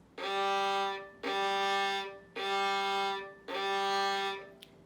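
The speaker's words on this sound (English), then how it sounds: "starting from the lowest string and thickest string, which is G, and that sounds like this" Four long bowed notes on a violin's low G string, each steady and sustained with short gaps between, clear and close with no talking.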